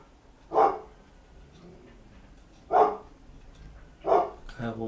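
Three separate loud dog barks come at uneven intervals, each short and punchy, with quieter background noise between them during a football watchalong.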